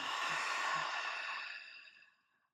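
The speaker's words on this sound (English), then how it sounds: "And then taking a big open mouth exhale." A long, breathy open-mouth exhale during a morning yoga practice, close and soft, fading gradually to silence over about two seconds.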